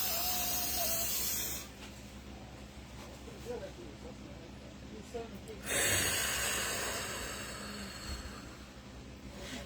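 Slow, deep breaths during a breathing exercise: a long airy inhale, a quieter pause, then another long breath, close and fairly soft.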